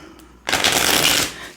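A deck of oracle cards riffled in one continuous burst of dense, crisp flutter lasting under a second, close and fairly loud, with no talking over it.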